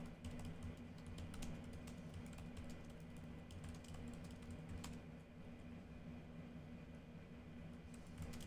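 Clacking computer keyboard typed on steadily, soft rapid key taps running throughout over a constant low hum, with no one speaking.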